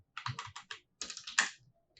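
Quick bursts of typing on a computer keyboard while writing HTML code, crisp close keystrokes in two short runs separated by a pause.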